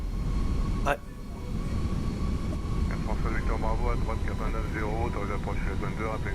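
Fenix A320 jet engines rumble steadily in Microsoft Flight Simulator as throttle is applied on the runway, a broad continuous roar with a brief click near the start, while someone talks over it for much of the time.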